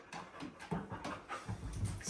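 A pet dog, a female, pants and snuffles close by during a fireplace renovation, breathy rhythmic puffs with small bumps and shuffles, fairly quiet and alone without talk.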